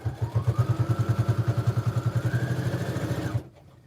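A lightweight all-plastic sewing machine stitches a tote bag in a fast, rhythmic mechanical chugging with a rising motor whine, close and fairly loud, then stops abruptly near the end.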